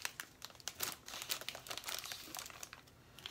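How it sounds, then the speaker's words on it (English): Paper is torn slowly and carefully in a series of short, quiet rips and crinkles while a greeting card is being crafted, with no voices heard. "See if I can rip it without ripping it too much."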